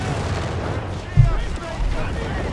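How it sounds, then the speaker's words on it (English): Howitzer artillery barrage in Company of Heroes 3, a heavy thump landing mid-clip followed by a rumbling blast, set under continuous battle noise and a commentator's voice. "Another howitzer barrage here being unleashed against the Germans."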